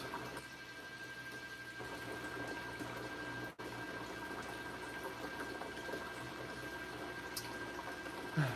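An aquarium water pump circulating water: a low, steady hum with a soft bubbling wash, faint and continuous throughout, with one brief drop partway through.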